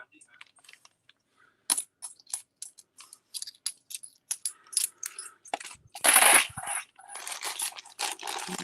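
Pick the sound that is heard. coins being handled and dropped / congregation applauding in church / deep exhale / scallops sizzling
coins being handled and dropped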